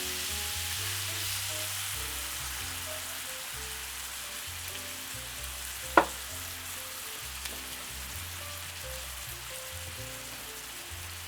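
Patak's simmer sauce fries in a pan with a steady, close sizzle that carries on throughout, broken by one sharp knock around the middle and occasional faint stirring; no talking.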